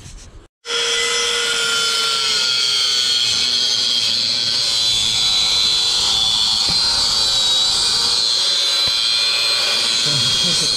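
An angle grinder runs during repair work on an Audi A3 1.9L TDI, starting abruptly after a brief pause, then holding a loud, steady, high-pitched whine close by for about ten seconds.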